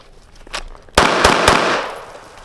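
Three sharp, loud pistol shots fired from close retention at a target, the first sharp crack followed by two more in quick succession, each ringing out against a lingering echo.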